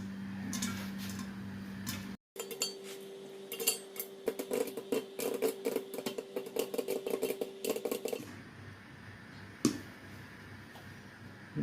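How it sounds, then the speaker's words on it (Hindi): Homemade popcorn kernels popping inside a pot covered with a lid, a dense run of sharp, irregular pops over a steady stove hum that soon thins out to a few stray pops. "ये तो पॉपकॉर्न बनना शुरू हो गए हैं, देखिए माशाल्लाह। अब ढक्कन से ढाँप देंगे।"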